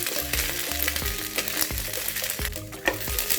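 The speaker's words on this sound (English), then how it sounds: "I'm going to put 1 tablespoon of olive oil and put all the beans in it. And start the process of the cooking of the beans" Green beans fry in olive oil in a pan with a steady, dense sizzle, joined by repeated clunks and scrapes of stirring close by. No one speaks.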